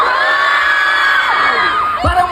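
A concert crowd in Cebu roars and shouts back at the performers on stage, a dense, loud, sustained wall of cheering and whooping that swells and then tapers near the end.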